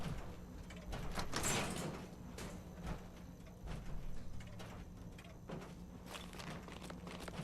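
An electronic door unlocking and sliding open in Fallout 4, a short mechanical whoosh with clicks and scraping, followed by faint footsteps over a low hum of background game ambience.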